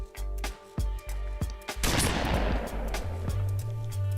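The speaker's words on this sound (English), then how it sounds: "which gunshot do you guys like?" Gunshot sound effects fire in a burst of sharp, loud cracks, several quick shots followed by a dense rolling volley that rings out and decays over a low rumble, with no voices.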